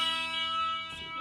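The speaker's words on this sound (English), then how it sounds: "this is the thinnest string, so it's going to make like higher pitched sounds" Fender Squier Bullet Stratocaster electric guitar played through an amp, a bright high note on the thinnest string ringing steadily before a brief pick or fret noise, faint and alone.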